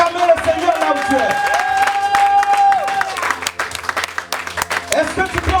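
A church congregation at a special worship service bursts into loud applause and cheering for the Lord, clapping and shouts rising together across the room while a sustained musical tone carries underneath.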